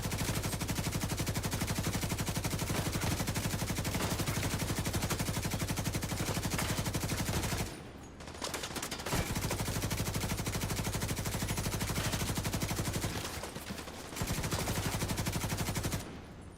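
Sustained, loud, rapid automatic fire from enemies shooting at the player in a video game, a dense continuous rattle broken by two brief pauses before resuming.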